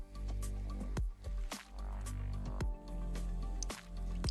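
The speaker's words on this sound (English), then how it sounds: "Sancta blood drips onto the chapel's floorboards, giving off a dull sound." Blood dripping onto chapel floorboards in the Arknights video game, a sequence of dull, soft drips and squelches landing irregularly about every half second over a quiet low hum, no talk.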